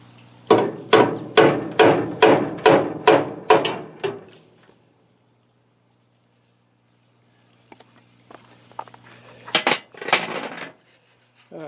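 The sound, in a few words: hammering a punch to dimple metal before drilling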